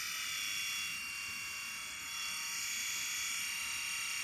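A Philips Norelco 7500 electric shaver runs with a steady, faint, high-pitched hum, constant throughout and alone.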